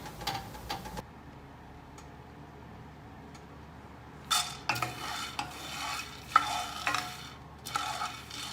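A utensil stirring coffee beans roasting in a pan at home makes soft scraping and rattling, with beans clicking and tumbling in repeated close strokes after a brief quiet stretch.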